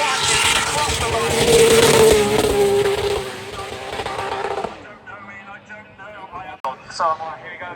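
Loud, dense engine roar of a triple-motor drift car at a drifting festival, launching hard off the line for several seconds before the noise cuts off, leaving quieter crowd and background sounds with a sharp click near the end.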